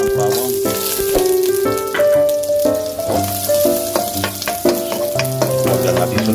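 Garlic fries in oil for shrimp with kangkong, a lively sizzle with occasional stirring, heard under constant background music.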